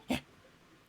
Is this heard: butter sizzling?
no